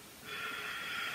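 Steady breathing through a yoga balance pose, a soft airy exhale or sniff that starts after a short pause and holds evenly for about a second, close and quiet, with no talking.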